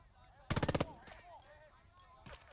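A rapid burst of about six loud gunshots in the war game Burden of Command, followed by faint scattered crackles and a softer single shot near the end, over quiet background noise.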